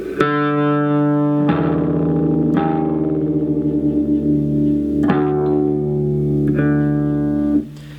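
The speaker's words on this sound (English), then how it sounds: "play the low E string and tune down until the pitches match." Sustained, effects-laden electric guitar notes are struck one after another and left ringing, the low E string sounding against another as it is tuned down to D.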